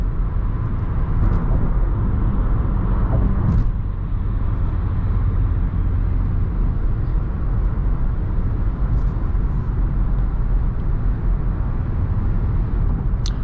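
A Lexus RX350 cruises on the highway, heard from inside the cabin as a steady, loud wash of road and engine noise that holds throughout.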